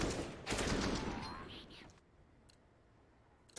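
Competitive Counter-Strike gunfire on the Vertigo map at a pro league match, a dense burst of rapid shots for about two seconds under caster talk, then fading to quieter background with a few faint clicks.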